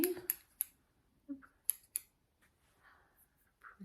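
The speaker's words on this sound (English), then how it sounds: "And a pair of foldable scissors." A pair of foldable rose gold scissors is handled up close and gives off several sharp metallic clicks and snips in uneven bursts. Faint rustles come between them in a quiet room.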